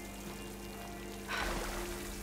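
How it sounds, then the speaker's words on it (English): Water pours steadily from a vent in Horizon Forbidden West, a soft broadband rush that swells louder partway through over a low game-ambience hum. "Water's coming from that vent."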